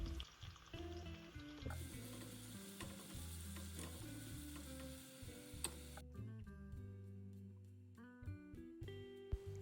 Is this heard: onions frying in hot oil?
yes